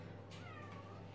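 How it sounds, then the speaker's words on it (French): A cat named Mignette meows indoors, a single drawn-out call with a rising then falling tone, close by and clear over a steady low hum, with no one talking. "Mais viens te montrer à la place de miauler"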